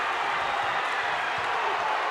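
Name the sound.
basketball crowd cheering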